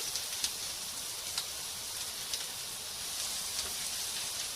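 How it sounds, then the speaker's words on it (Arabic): Mixed vegetables sautéing in ghee with onion in a pan for a vegetable turli, giving a steady, even sizzle and hiss throughout with a few faint pops, and no talking. "وهديهم كده تشويحه مع البصل والسمن على النار."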